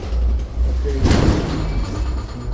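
The rear door of a transit bus at a stop on Church Avenue and East 39th Street opens with a short burst of pneumatic hiss and clatter midway through, over a steady idling engine rumble.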